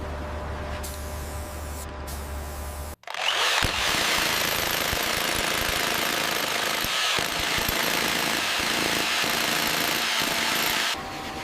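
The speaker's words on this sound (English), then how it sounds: "Deep boreholes are drilled to fragment the ore for removal." Pneumatic rock drill boring deep holes into ore inside a gold mine, a loud, continuous hammering roar that starts abruptly after a brief pause and runs steadily for several seconds.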